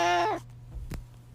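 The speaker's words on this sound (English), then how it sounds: "My cat Ella would like to say a few words about purple too" A pet cat named Ella gives a single loud, close meow lasting under half a second, followed by quiet room noise and a brief soft thump.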